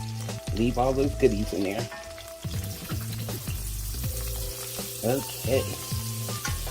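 About two tablespoons of butter sizzling in a pan for holiday lamb chops, a steady crackling fry under a woman's close-up talk.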